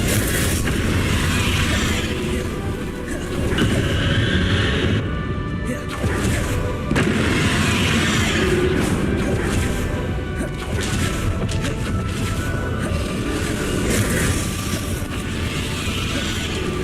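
Bombarda and Confringo spell explosions in Hogwarts Legacy crash and boom repeatedly during a boss battle, a dense barrage of impacts and whooshes over a constant game din, with a voice calling out between them.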